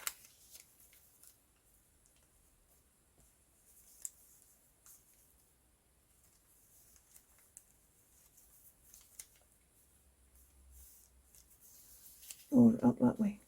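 Material torn by hand, a short burst of ripping near the end after a long quiet stretch with small scattered ticks and rustles.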